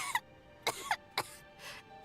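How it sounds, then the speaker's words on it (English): A character coughs in Genshin Impact's Snezhnaya quest: four short, separate coughing bursts spaced about half a second apart, fairly soft against a quiet game background, with no speech. "How long have you had that cough"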